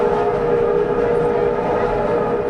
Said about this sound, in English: A steam train has thundered over the Sydney Harbour Bridge for the first time in almost 80 years.